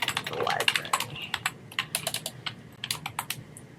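Someone typing a question on a computer keyboard, a close, steady patter of key clicks in quick irregular bursts with brief pauses between words.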